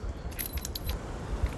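Keys jingle on a telescopic magnet pick-up tool in a quick cluster of close, bright metallic clinks, followed by a couple of softer taps.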